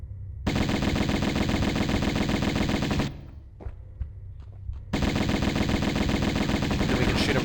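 Lara fires her pistols at an enemy in Tomb Raider 1 Remastered on PC: a long burst of rapid, evenly spaced shots, a brief lull with a few scattered sounds, then another sustained volley.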